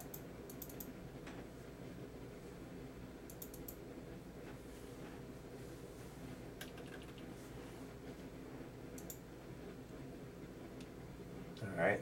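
Sparse, light keyboard typing in short clusters of a few keystrokes, faint against a steady room hum, with soft speech in the background.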